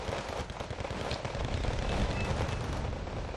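Sustained rifle gunfire from a massive infantry assault in the Wargame Red Dragon strategy game, dense overlapping shots and bursts rolling continuously at steady loudness with no speech.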